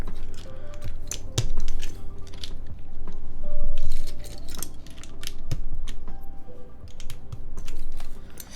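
Typing on a themed MC65 mechanical keyboard: irregular bursts of crisp, clacky keystrokes, close and fairly loud, with a few sharper isolated clicks and no talking.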